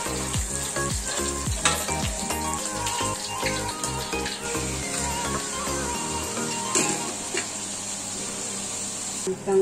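Sambal frying in a pan in a home kitchen that doubles as a food-selling operation, giving a continuous close sizzle with scraping stirs and a running tap in the background, and no speech.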